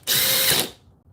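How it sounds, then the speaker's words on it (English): A Makita XGT drill running in hammer drill mode gives a loud, harsh, rattling whir for about half a second, then cuts off and winds down quickly. "If we do hammer drill, that does not sound good."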